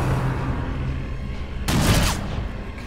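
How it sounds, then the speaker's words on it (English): Grapeshot fired in Darkest Dungeon: one sharp, loud blast after a quieter ambient stretch, with a brief scattering burst that fades out quickly, and no talking. "I think we might go for another grapey shot."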